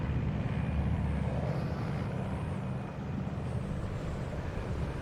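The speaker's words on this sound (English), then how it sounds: "An AC-130, eh?" An AC-130 gunship drones overhead in the video game Metal Gear Solid 3: Snake Eater, a steady low rumbling engine roar that stays even and moderately loud throughout with no voices.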